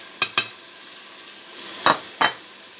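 A spoon scrapes and clacks against a cooking pot as spices are stirred into cooked yogurt for beef trotters, four sharp strokes in two pairs over a soft, steady sizzle.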